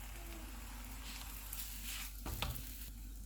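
Cauliflower paratha cooks in ghee on a hot tawa with a steady, faint sizzle and crackle, and a brief scraping shuffle comes as the flatbread is turned over.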